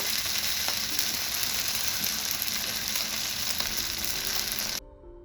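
Fried rice sizzles steadily on a hibachi teppanyaki griddle, a dense, even crackle with a few faint scraping clicks, close up, before cutting off abruptly near the end.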